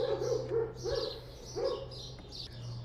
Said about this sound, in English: that little dog go woof